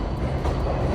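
A New York City subway 7 train runs on the line toward Mets–Willets Point, a loud, steady close rumble of wheels and cars with no pause and no voices.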